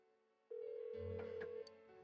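A telephone in the video game Persona 4 Golden rings on and on without being answered, a steady electronic ring tone standing alone with a low hum underneath.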